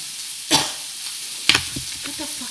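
Garlic, onions and ginger sauté in a ceramic pan with a steady sizzle, broken by two quick scraping stirs and some softer shuffling toward the end.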